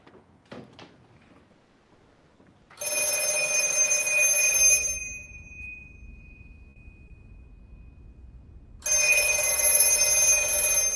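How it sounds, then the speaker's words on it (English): A telephone rings in the video game The Exit 8, two bursts of bright electronic trilling separated by a quiet gap with a low hum underneath, clear and fairly close. "That phone's ringing."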